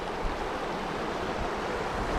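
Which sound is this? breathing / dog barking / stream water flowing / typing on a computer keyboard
stream water flowing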